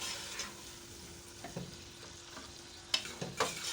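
Beef fries in a pan for jalfrezi with a soft, steady sizzle, broken by scattered scrapes and clinks of stirring that grow sharper toward the end; no one speaks.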